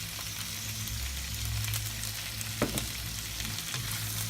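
Green beans sizzle and fry in a pan for Chinese-style cooking, a steady crackling hiss broken by a few sharp clacks of stirring near the middle, close and alone without speech.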